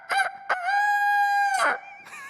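A man imitates a rooster's cock-a-doodle-doo with his voice: a short clipped call, then a long sustained, strained crowing note, with a brief follow-up at the end, loud and close.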